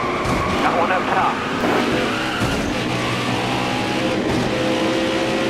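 A NASCAR Cup race car in the NASCAR Heat 5 video game skids and squeals while losing grip, its engine roaring steadily under the tire noise as a person talks over the game sound.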